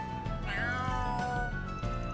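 A cat meows in Trails Through Daybreak 2, with one drawn-out, rising and falling meow over quiet game music and ambience.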